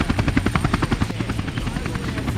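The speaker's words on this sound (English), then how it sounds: "The chopper's just up." A helicopter in the video game Tony Hawk's Underground beats loudly overhead with rapid, evenly spaced rotor thumps and a steady engine whine, close and dominant, its chop smoothing out toward the end.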